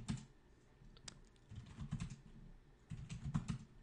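Computer keyboard typing in steady bursts of quick clicking keystrokes, close and fairly quiet, with short pauses between runs and no talking.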